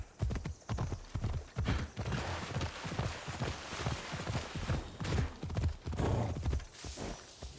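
Horse hooves pound in a fast, driving galloping rhythm in Assassin's Creed Odyssey, loud and close with heavy repeated thuds, and a brief whinny rises near the end.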